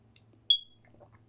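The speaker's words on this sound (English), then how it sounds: "alarm or my smoke detector. The battery's dying, and sometimes it beeps a lot" A smoke detector with a dying battery gives a single short, sharp high chirp in an otherwise quiet room, with a low hum underneath.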